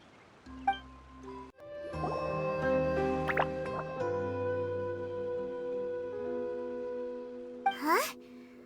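A water droplet dripping in the video game Genshin Impact. Several bright, ringing drip tones land in sequence over a sustained, chiming musical backdrop, and a rising watery swoosh comes near the end.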